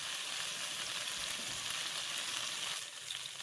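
Beef sears in a hot pot with a steady, dense sizzle and crackle, heard close and continuous, easing slightly near the end, no talking.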